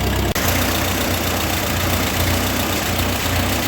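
A Ford 9N/2N/8N tractor engine idles in a barn, a steady loud chugging rumble after a brief click near the start, running evenly without speech.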